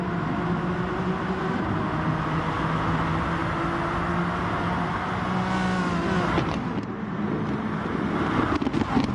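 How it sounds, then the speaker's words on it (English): Renault Megane race cars in a racing video game at Kyoto Driving Park, engines droning and revving together in a dense pack, pitches climbing through gear changes, loud and continuous with no speech. "These are beautiful sounding cars"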